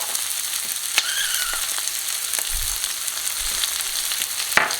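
Mushrooms and onions fry in a hot pan with a steady, close sizzle throughout, broken by a few sharp crackles and pops and a soft low bump or two from the pan.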